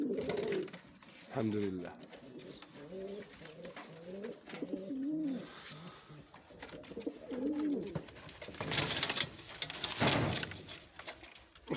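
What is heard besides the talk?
Sevillano pigeon male cooing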